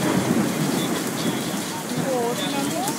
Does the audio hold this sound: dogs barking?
no